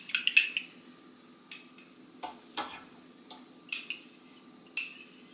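A farm-fresh egg beaten with a fork in a bowl, for potato bread: sharp, scattered metallic clicks and taps of the fork against the dish, spaced irregularly, close and fairly quiet.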